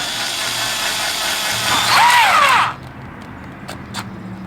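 A small power driver strains to sink a screw into very tough wood, giving a buzzing whir that climbs into a strained, wavering whine for about a second, then cuts off, followed by a couple of faint clicks.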